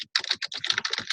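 Quick bursts of typing on a computer keyboard, close and clear, the keystrokes clattering in uneven rapid clusters with short pauses between them.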